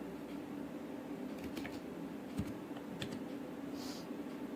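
Quick, light keystrokes tapped on a computer keyboard while opening MS Paint, a soft steady clatter of scattered clicks over a constant background hum, with no talking.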